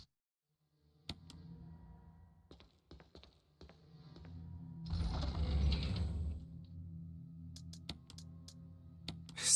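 Typewriter save sequence in the Resident Evil game: a run of mechanical key taps and ratcheting clicks, with a denser burst of mechanical noise in the middle, close and moderately loud, no talking.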